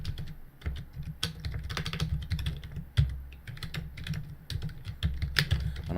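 Mouse clicks and keyboard taps at a computer while saving a 3D-printing file, a steady run of quick, close, crisp clicks with no talking.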